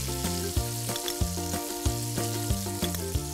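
Ginger and garlic frying in a hot pan for tomato garlic chutney, a steady close sizzle with periodic soft thumps and clinks of stirring, no voices.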